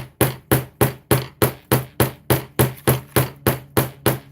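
Nine sharp, evenly spaced hammer blows ring out on a craft desk at about two per second, each loud strike followed by a short rattle of loose items.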